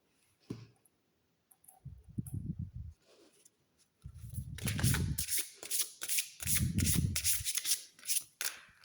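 A deck of Lumière d'étoiles oracle cards, illustrated by Cléophée, being shuffled by hand: soft riffling and sliding card bursts in several rhythmic rounds, close and fairly loud, with no talking.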